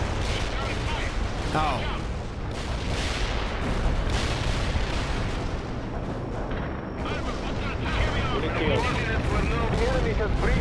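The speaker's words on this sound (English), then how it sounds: "Carpet bombing requested." Carpet bombing in the game World in Conflict sets off a dense, continuous barrage of rumbling explosions and booms, with a brief exclamation from a voice partway through.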